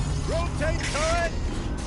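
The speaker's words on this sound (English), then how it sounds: "Rotate turret!" A tank turret turning: mechanical whirring with a few short rising and falling whines over a steady low rumble, fairly close and continuous.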